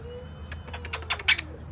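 A pet bird named Kiwi chirps in a quick run of short, bright calls, growing busier and louder toward the end over a quiet indoor hum.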